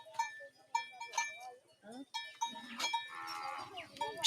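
A herd of cattle penned at night in the centre of a Maasai boma, with repeated moos and lowing, goat- and sheep-like bleats and faint clanking bells, heard at moderate distance and fairly quiet.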